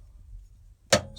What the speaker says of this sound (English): So there goes the knife.